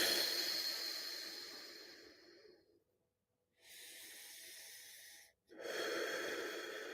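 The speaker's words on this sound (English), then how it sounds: "you breathe in again before you exhale and you hold a few seconds and you let it out easy" Slow, deliberate breathing exercise: a long audible exhale with a wheezy, airy hiss that fades out, a silent hold, then two further close breaths of steady rushing air, one slightly louder.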